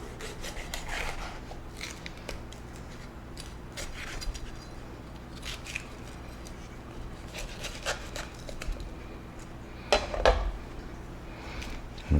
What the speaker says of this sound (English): I'm gonna slice open my peppers and take the seeds out